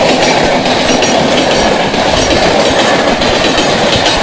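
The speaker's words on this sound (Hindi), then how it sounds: "यहाँ से ट्रेन गुजर रही है, शिवपुरिया गांव जंक्शन से ट्रेन गुजर रही है" A train roars past loud and close through Shivpuria railway junction, a dense steady rumble and clatter of wheels on rails that fills the whole stretch without a break.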